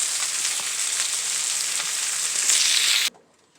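Steady, loud sizzling of stuffed chicken breast searing in a hot pan, a dense continuous hiss that cuts off abruptly near the end, leaving faint quiet.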